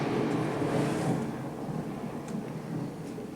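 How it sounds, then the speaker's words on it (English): A stage-play thunder effect for a lightning storm rolls as a low, rumbling swell that peaks early and then sustains at a slightly lower level, with no voices. "Lightning in the wintertime."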